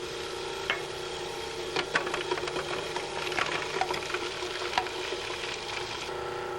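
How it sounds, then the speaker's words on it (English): A Cuisinart food processor with its metal blade runs steadily while parsley and shallots are minced, a constant whirring hum with scattered light clicks and ticks as the pieces are chopped. "While the machine is running, drop the shallots into the small feed tube."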